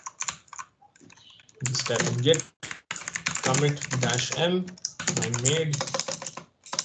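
Brisk typing on a computer keyboard, a git commit command being entered, clatters in close, uneven bursts between stretches of someone talking.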